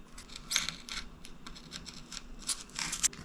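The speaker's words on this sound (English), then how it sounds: "Cut it about a half-inch strip like so." Scissors snipping a half-inch strip from a roll of tape during a homemade bow and arrow build, with a few short, crisp scratchy cuts close by and quiet gaps between them.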